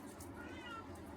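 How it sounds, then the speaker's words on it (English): A house cat meows to be let out, giving one drawn-out, wavering cry over faint room noise, close by and fairly soft. "Kitty cat wants out."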